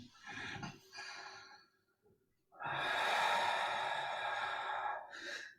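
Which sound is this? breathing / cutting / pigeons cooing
breathing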